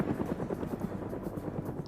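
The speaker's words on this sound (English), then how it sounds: "We also have a helicopter in play" Helicopter in a Cold War military video game, a steady rhythmic rotor chop thudding continuously at moderate distance with no pauses.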